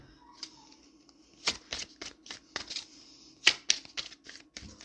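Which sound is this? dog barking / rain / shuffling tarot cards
shuffling tarot cards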